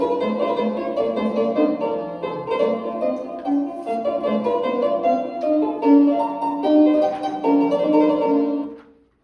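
An early piano of Mozart's era, around 1770, plays a bright, light-toned melody with chords, notes ringing briefly and steadily throughout before fading out at the end.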